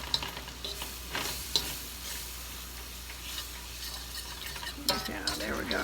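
A fork scrapes and stirs a roux of flour and butter in a pan, steady soft scraping with a faint sizzle and a few sharper clicks of metal against the pan, close and continuous with no talking.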